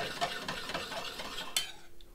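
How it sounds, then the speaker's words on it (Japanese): Dijon mustard being stirred into a beef cheek sauce braised in beer, a soft continuous swishing and scraping in a pan with a faint sizzle and one brief utensil knock, close and quiet. "温まってきたら最後ディジョンマスタードを入れてソースをモンテしていきます。"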